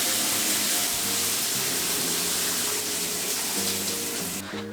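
Shower water runs in a steady, close hiss of spray, filling the space evenly throughout and cutting off sharply at the very end, with no voices.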